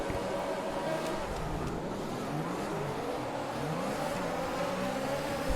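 Field of Formula 1 cars launching off the grid together at Portimao circuit for the Portuguese Grand Prix in the racing game F1 2021, a dense steady roar of many engines with rising pitch sweeps as they accelerate away.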